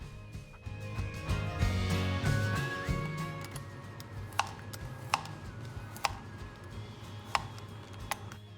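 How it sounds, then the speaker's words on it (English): A knife slices radish into rounds on a cutting board. After a murky start with background hum, five crisp, fairly quiet chops land roughly a second apart. "Cut off the end parts of the radish before slicing them into nice circles."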